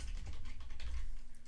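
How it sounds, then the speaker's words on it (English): Rapid keystrokes on a computer keyboard, a steady close run of light clicks and taps lasting throughout, with no voices. "So let's type it out."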